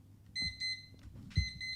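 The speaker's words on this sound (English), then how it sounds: "Oops, it's my timer." A timer alarm goes off in short, bright, repeated electronic beeps. Several pulses sound close by with faint bumps underneath.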